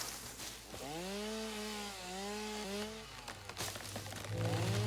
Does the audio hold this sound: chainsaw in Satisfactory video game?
yes